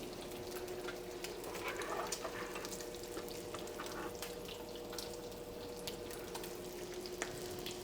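Bacon frying in a pan, a steady close sizzle and crackle with faint pops running evenly throughout, no talking over it.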